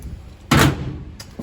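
Car door on a unibody car under step repair, one corner slightly jacked up, shut once with a single solid thud, followed by a fainter knock just over half a second later.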